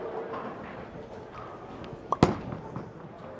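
A urethane spare ball strikes the pins in a bowling alley with one short, sharp crash, then a brief scatter of clatter fading out, over faint lane ambience.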